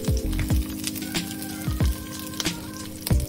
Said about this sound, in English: Place the eggplant slices in the pan and cook for 2 to 3 minutes